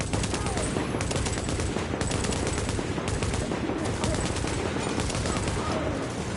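Dense, continuous gunfire in The Division during a PVE survival mission, rapid overlapping shots blending into a loud, unbroken barrage with voices faintly underneath.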